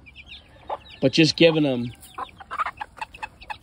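Chickens cluck close by, a mother hen with her chicks, in short clustered bursts between the words of a person talking.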